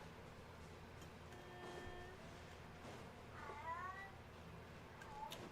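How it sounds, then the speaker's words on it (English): A pet cat meows a few times at mid distance, rising, wavering cries over a low background hum, with no voices. "it kind of sounds like when my cat's meowing like that he's saying hello"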